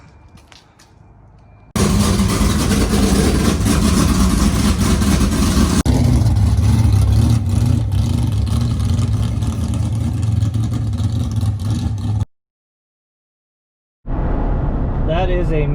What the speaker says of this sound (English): So I have a couple clips of the car running, like maybe a couple seconds